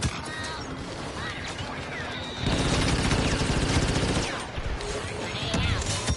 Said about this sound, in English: clones are shooting at transport